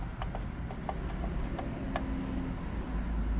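Screws being tightened on a car radio mount: soft repeated ratcheting clicks from a hand tool, close and quiet, with no talking.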